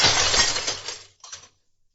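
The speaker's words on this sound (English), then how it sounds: "I'll have to smash the glass case." A glass display case smashes in one loud crash, glass shattering and scattering for about a second, then a few last shards tinkle down before silence.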